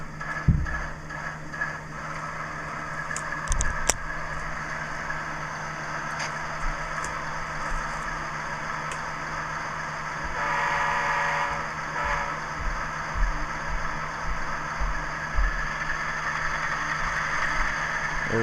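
An Intermountain ES44AC GEVO model locomotive runs slowly at speed step 1 around an 18-inch radius track loop, giving a steady motor hum and rolling noise with faint clicks, no talking.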